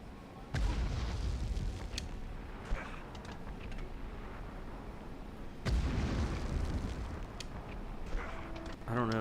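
Grenade explosions in a PS1 video game: two heavy booms hit several seconds apart, each followed by a rumbling tail, loud over a noisy game mix with scattered clicks and pops.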